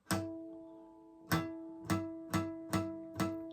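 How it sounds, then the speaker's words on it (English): A guitar natural harmonic on the E string is struck six times, each a bright ringing chime-like tone that decays slowly, spaced irregularly, with no talking. "to make a harmonic, it's going to sound like this."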